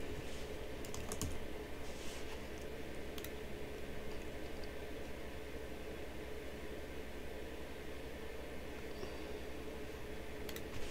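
Steady computer keyboard typing on a Mac runs throughout, close and continuous over a faint hum, with no voices.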